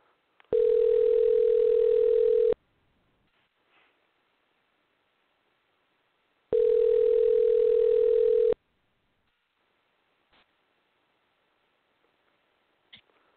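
Two long ringback tones on a telephone line while calling someone back, each about two seconds with a four-second gap, followed by faint clicks and quiet line noise.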